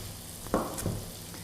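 Shredded leeks frying in a pan give a steady soft sizzle with a brief stirring scrape and a couple of louder crackles, close and otherwise quiet.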